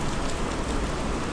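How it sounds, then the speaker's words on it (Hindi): Steady rain falls in a seasonal downpour at Lahartara Dham in Kashi, a dense, even hiss of drops on surfaces, moderately loud and unbroken, with no talking over it. "अच्छी बारिश हो रही है"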